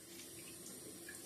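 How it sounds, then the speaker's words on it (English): Cold tap water runs in a steady, gentle stream to rinse homemade butter, a continuous soft splashing hiss with no talk. "Time to rinse our butter to get all of that buttermilk off of the butter"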